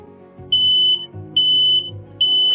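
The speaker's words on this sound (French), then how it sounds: "chaque fois qu'un garçon allait là-bas et essayait de fumer, cela déclenchait un signal sonore" A smoke alarm in a school toilet sounds three loud, evenly spaced high-pitched beeps, each about half a second long, over a low background hum.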